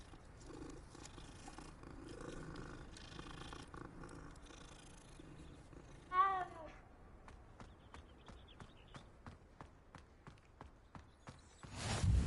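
A cat purrs in Hogwarts Legacy in a soft, steady rumble, with rhythmic footsteps and game ambience, a brief chime in the middle and a louder noise burst at the end.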